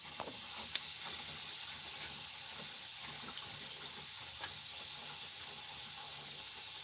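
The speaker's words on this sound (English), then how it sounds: "I'm just going to put a splash of apple cider vinegar." A splash of apple cider vinegar poured, a steady hissing, faucet-like liquid stream that runs continuously at moderate level with faint clinks.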